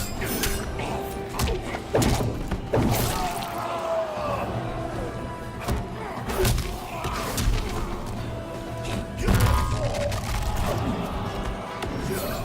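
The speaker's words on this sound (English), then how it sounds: "So Scorpion missed his fatal blow attack" Fighting blows between Scorpion and Baraka in Mortal Kombat 11, with sharp thuds, whacks and crashes landing at an irregular pace amid game effects, under a commentator's voice.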